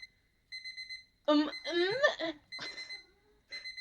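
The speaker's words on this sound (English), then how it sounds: "I slowly opened my eyes to the sound of my alarm." An alarm clock in the video game Yumeutsutsu Re:Master rings with repeated electronic beeps. A person talks briefly over it and the beeping continues faintly afterward.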